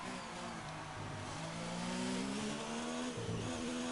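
Ferrari Formula 1 car in F1 2019 racing game at Abu Dhabi, engine note climbing steadily under acceleration down a long straight, loud and continuous with a brief gear shift dip near the end.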